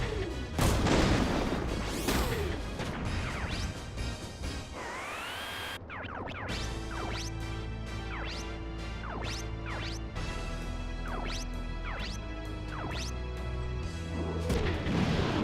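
Crashing, smashing impacts and booming blasts as obstacles are broken apart in the mecha strategy game Front Mission 3, loud bursts over a steady droning game soundtrack with sweeping whooshes.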